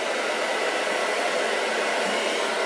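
A hair dryer fitted with a diffuser dries curly hair, giving a steady, close whooshing roar that holds at an even level throughout, with no voices.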